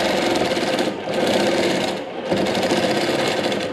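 A longarm quilting machine stitches a custom quilt in a fast, rhythmic mechanical chatter, loud and close, with two brief dips where the needle slows before resuming at full pace.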